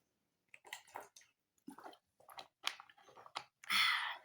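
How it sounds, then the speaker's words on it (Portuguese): Someone takes several close sips of water in a quiet room, each gulp and swallow coming as a short separate burst, ending in a louder wet slurp. "Deixa eu tomar minha aguinha aqui."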